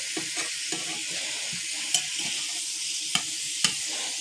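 Hamburger meat fries and sizzles in a pan with a steady hiss, broken by occasional sharp clicks and scrapes of a utensil stirring, close up and without talk.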